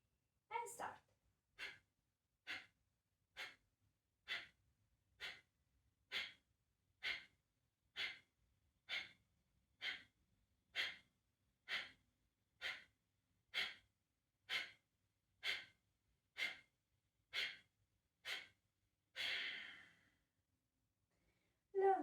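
Rhythmic forceful breathing during a yoga crow pose session: about twenty short, sharp exhales at an even pace, close and clear, ending with a longer breath and quiet.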